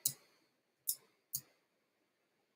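Four sharp, isolated computer mouse clicks sound close up in a quiet room while drawing in Illustrator, spaced irregularly about half a second to a second apart.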